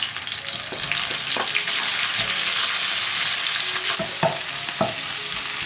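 Pickled cabbage stir-fries in hot oil with dried chili, ginger and garlic, giving a loud, continuous hiss and crackle, with several sharp clacks of a spatula against the wok cutting through the sizzle.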